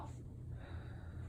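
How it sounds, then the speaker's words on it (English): A single quiet, deep inhaled breath, drawn in softly and evenly close to the microphone during a head-to-toe guided relaxation. "Take a deep breath in again."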